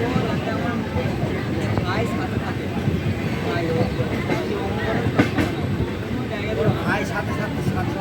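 The Howrah–Radhikapur Kulik Express running on Indian railway track, a steady, loud rumble with rhythmic wheel clatter and occasional sharp clanks, persisting throughout.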